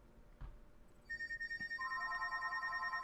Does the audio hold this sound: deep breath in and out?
no